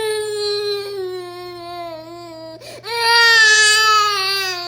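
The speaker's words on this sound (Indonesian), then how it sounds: "Satu bayi nangis kencang, tapi yang satunya malah bengong." An infant cries loudly in long, wavering wails that pause briefly with a catch of breath, then swell louder and higher, close and continuous.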